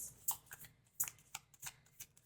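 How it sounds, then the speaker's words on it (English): A deck of tarot cards shuffled briskly by hand, a quick series of crisp riffling snaps and soft flutters, close and faint, with no talking. "I'm like aggressively shuffling"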